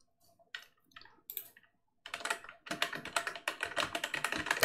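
Fingers typing on a computer keyboard while writing JavaScript code: a few sparse key clicks, then a brief pause and a rapid, dense run of close, crisp keystrokes with no talking.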